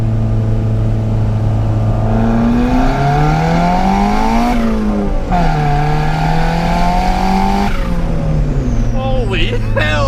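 Budget turbocharged Honda Civic engine revving hard and loud, pitch climbing and falling through several surges with a brief drop near the middle, a steady droning roar throughout and the high whine of the turbo near the end.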